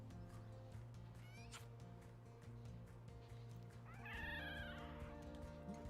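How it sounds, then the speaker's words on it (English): Juvenile animals in the zoo game Planet Zoo making small cat-like mewing calls, brief and faint, over a steady musical hum with a rising chirpy call near the end. "They've got little cat noises."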